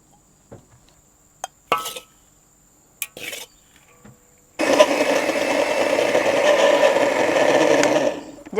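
Electric blender grinding toasted coconut into kerisik, switching on after a few clinks and taps and then running as a steady, loud, continuous whirring grind for several seconds.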